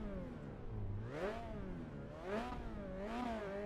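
Racing car engine in the Assetto Corsa Evo racing game revving up and down in three rising-and-falling swells, steady and fairly loud with no talk.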